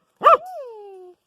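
A single close dog bark followed by a long, high whimpering whine that slowly trails off, loud against a silent background.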